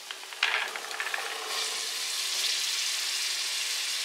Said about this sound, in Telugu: ఇప్పుడు మనం ఇందులో ముందుగా నానబెట్టిన ఈ చెన్నాని ఇందులో యాడ్ చేసుకుందాం.